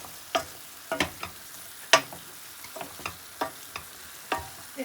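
Chicken fries with cumin and red chilli on high heat, a soft steady sizzle broken by sharp clacks and scrapes as a utensil stirs the pan about every half second, close and unaccompanied by talk.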